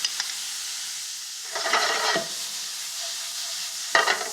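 Garlic sizzles in a hot pan with onion, a steady bright hiss punctuated by bursts of stirring and spattering, close and fairly loud, with no talking.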